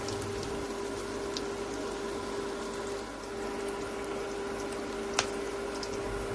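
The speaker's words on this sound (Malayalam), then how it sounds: "എന്നിട്ട് ഇതിലേക്ക് ഈ ഷേപ്പാക്കിയ കട്ട്ലേറ്റ് ഇട്ട് കൊടുക്കുക." Shaped tender jackfruit cutlets fry in hot oil over a medium flame, giving a steady, even bubbling sizzle at close range with a single sharp tick partway through.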